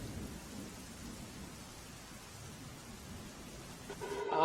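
Heavy monsoon rain in Navsari, Gujarat, India, hisses in a dense, steady wash, with a low rumble underneath and a brief chirping sound near the end.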